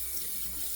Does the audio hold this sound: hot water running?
yes